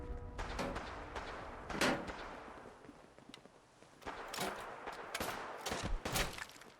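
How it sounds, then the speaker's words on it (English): Fallout 4 gunfire cracks out in scattered bursts, with several sharp shots and clustered volleys at mid distance, moderately loud against a low game ambience and no one talking. "Who's shooting me?"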